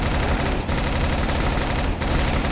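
Pistol fired rapidly in the Brutal Doom shooter, a dense, continuous volley of loud shots that blurs into a machine-gun-like roar, broken by two brief gaps.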